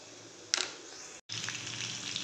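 Cumin seeds hit hot oil in a pan with a sudden crackle, then a steady loud sizzle and hiss continues, briefly cutting out and resuming, with no talking.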